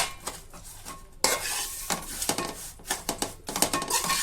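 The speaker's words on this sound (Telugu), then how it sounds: "ఇంకా దీన్ని చేతితో కలిపి ముద్ద చేసేసుకుందాం" Bahubali laddu mixture is mixed by hand into a ball in a pan, giving repeated scraping, crunchy rustles and clattering scrapes in irregular bursts, close and fairly loud, with no talking.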